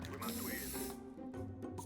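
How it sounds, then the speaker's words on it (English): A short hissing spray bursts from a can, about a second of steady loud hiss, then a brief pause and two shorter puffs, heard up close with no talking. "I'm so glad this is a spray here."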